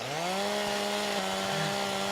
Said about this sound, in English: if ever you put the chainsaw into the ground like this